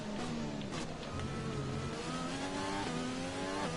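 An F1 race car engine screams at high revs in the F1 2020 video game during free practice at Barcelona, with a loud continuous whine that rises and dips through gear changes, heard alone.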